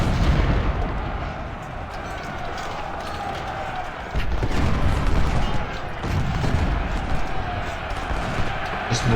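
Battle noise from Ultimate General: Civil War, a dense continuous roll of musket gunfire and artillery booms, loud and steady with a surge partway through, under someone talking.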